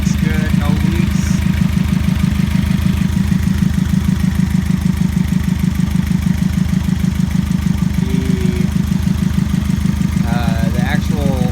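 Volkswagen Karmann Ghia fitted with a Subaru engine idling steadily, a close, loud, even chug with a fast regular pulse throughout, a voice briefly audible over it.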